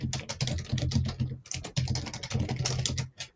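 Rapid typing on a computer keyboard, close and clear, a fast continuous patter of key clicks broken by a couple of brief pauses.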